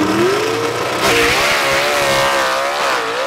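Gasser drag racing car at an Aiken, North Carolina drag strip, engine roaring loud and close as it accelerates, pitch climbing steadily under a constant dense rumble.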